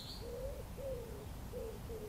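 A bird gives soft, repeated cooing calls on a still evening, with four or so hollow notes spaced evenly over a low, quiet outdoor hush.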